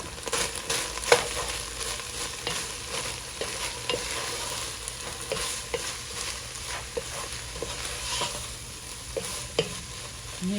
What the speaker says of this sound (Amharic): ሽንኩርት ጨምረን የሽንኩርቱ ጋር አብረን ጥብስ እናደርገዋለን